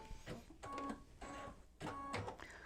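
An embroidery machine stitches the batting placement line for an in-the-hoop mug rug, with close rhythmic bursts of whirring, buzzing stitching separated by brief pauses, quiet and with no talking.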